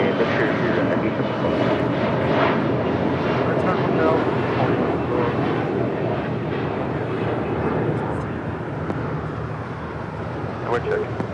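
A JetBlue airliner takes off from runway 25 right at Los Angeles International Airport, its jet engines a loud, steady broadband roar that holds for the whole stretch and eases slightly near the end.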